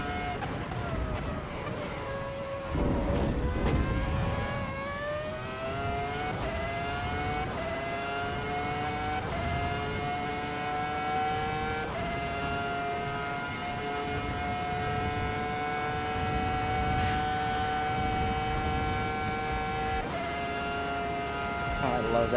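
Volvo S60R engine droning in its last gear in Assetto Corsa Evo, a steady rising whine with clear harmonics that drops briefly at gear changes, loud and continuous from inside the cabin.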